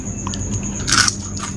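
A close bite into a crispy fried snack with sliced sausage inside makes one brief crisp crunch over a steady background hum.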